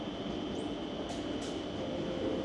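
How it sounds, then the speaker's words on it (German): An Erixx Stadler FLIRT 526 battery train pulls into a station, a steady rumbling roll with a faint high squeal briefly rising above it, heard from the platform without talk. "Da kommt schon unser Zug."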